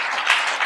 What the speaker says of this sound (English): One more hand of applause, ladies and gentlemen.